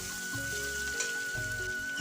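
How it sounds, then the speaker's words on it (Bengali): Chopped garlic frying in a pan after eggs were fried in it, a steady hiss of sizzling oil running evenly throughout with a low background tone. "রসুন কুচিগুলো দিয়ে দিচ্ছি"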